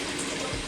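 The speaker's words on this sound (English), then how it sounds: "So sorry that I allowed the water to run like that." Water running from a kitchen tap, a continuous close, even hiss and splash of flowing water with no pauses and no voices over it.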